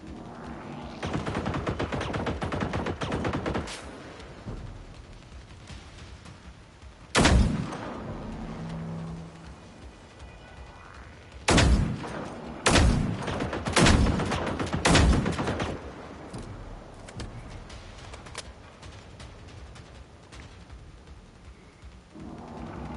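Gunfire in the Generation Zero game, several sharp, loud, close shots spaced irregularly, with a short cluster of rapid blasts and echoing tails between quieter ambient stretches.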